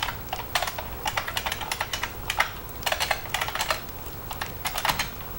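Rapid, uneven bursts of typing on a computer keyboard, close and fairly quiet, with short pauses between flurries of keystrokes and no talking.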